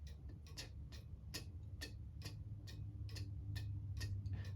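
A cuckoo clock ticks slightly out of beat, so the alternating tick and tock land at uneven spacing. The clicks come through clear and fairly close over a faint hum, with no talking.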